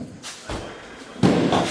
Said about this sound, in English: I gotta shut the door